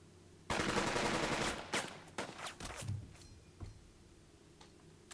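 Gunfire from the WWII tactical game Burden of Command opens with a sudden dense burst of rapid automatic fire, then breaks into scattered separate shots and sharp cracks that fade toward the end.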